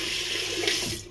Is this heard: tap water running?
yes